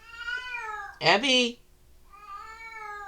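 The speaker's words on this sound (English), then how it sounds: "My cat. Can you hear her?" A pet cat named Abby meows loudly close by, one sharp cry between stretches of a tonal hum, and someone speaks briefly.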